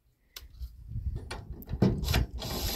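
Ratchet mechanism raising the end of a trailer log arch clicks in short, uneven bursts, a close rattling of metal pawls, louder near the end.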